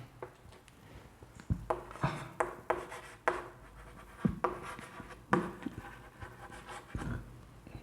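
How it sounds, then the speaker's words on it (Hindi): Writing on a board during a chemistry lecture on atomic structure: a run of quick scratchy strokes and taps, close and fairly quiet, in irregular bursts with short pauses. "चलो लिखते हैं।"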